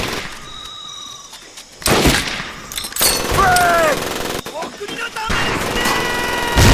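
Bursts of rapid gunfire in the video game Medal of Honor: Pacific Assault, loud automatic fire and shots crackling in clusters, with shouting voices and whizzing sounds mixed in.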